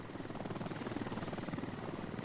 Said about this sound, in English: So, Tactrig helicopter lifting off.